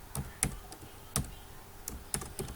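Computer keyboard typing, close and crisp, in a handful of irregular clicks and short bursts of keystrokes with brief pauses between them in a quiet room.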